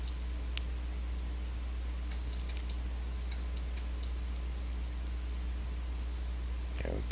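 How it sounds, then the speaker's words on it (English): Keys tapped on a computer keyboard as a word is typed in: a few sparse, light clicks in small clusters, close by over a steady low electrical hum. "I'm going to go up and type in YouTube"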